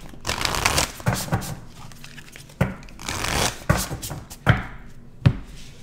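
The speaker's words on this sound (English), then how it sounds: "We're going to go into the spell casting oracle, and we're going to grab 3 cards" Oracle cards are shuffled and drawn in a quiet room, giving a run of crisp riffling bursts broken by sharp slaps and snaps as individual cards are pulled. The sounds are close and clear, with no talking.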